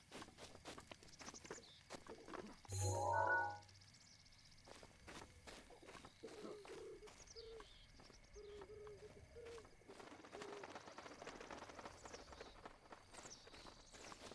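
Birds in Zelda Breath of the Wild on the Nintendo Switch 2 flutter and chirp faintly over a quiet outdoor ambience, with soft in-game footsteps and one brief louder thump early on.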